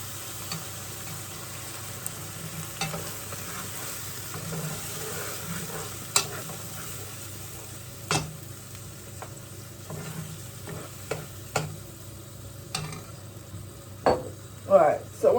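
Sauce goes into a pan of gizzard and tripe stew over lowered heat, giving a steady close sizzle and bubbling broken by intermittent scrapes and clinks of a spoon stirring against the pot.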